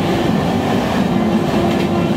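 Amrit Bharat Express passenger train running on rails, a steady loud rumble with faint clickety-clack of wheels heard from on board, continuous and without talk.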